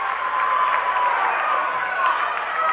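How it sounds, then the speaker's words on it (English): At a 2013 high school boys basketball final between Paulsboro and Pitman, a packed gym crowd keeps up steady cheering and shouting with a few louder swells, with no announcer's voice. "the crowd has really picked up since that three-pointer from the wing"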